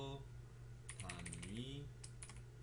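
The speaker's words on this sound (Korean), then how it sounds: "Alt 키를 누른 상태에서 엔터를 쳐주세요" Computer keyboard keys pressed, including Alt and Enter, a few quick soft clicks up close over faint background hum, with a voice speaking briefly.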